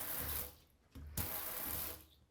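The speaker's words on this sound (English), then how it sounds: "And my touchless faucet" A touchless kitchen faucet runs in short bursts: water streams into the sink, cuts off briefly and flows again, fairly close and quiet, with no voices.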